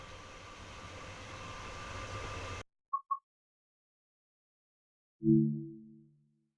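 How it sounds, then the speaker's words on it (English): British Rail Class 87 electric locomotive in BR Corporate Blue livery on the West Coast Main Line, Preston to Carlisle, in Train Sim World 5: a steady rolling rumble that stops abruptly, two quick clicks, then a brief low horn-like tone after a silence. "This is the British Rail Class 87 locomotive in BR Corporate Blue livery"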